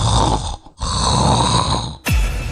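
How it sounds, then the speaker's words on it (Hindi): Loud snoring from a person, continuous rasping breaths with a brief pause mid-clip and a sharp renewed snort near the end, close and alone without talk. "किसी को सोने दोगे या फिर यूं ही कुंभकर्ण बने खर्राटे लेते रहोगे?"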